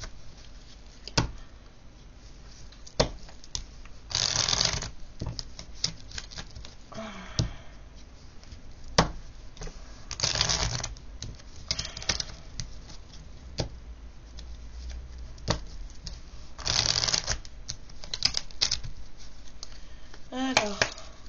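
Love Oracle cards shuffled in bursts of papery riffling, several distinct rounds spaced through the stretch, close and moderately loud, with a voice talking in between.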